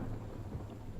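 Rain falls steadily alongside a low rumble of thunder as a storm approaches, a constant dense wash of sound at a moderate distance.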